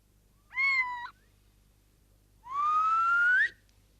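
Two clear tonal calls from a little owl (chouette chevêche), a short one followed by a longer rising one about two seconds later, close and alone against a quiet night background.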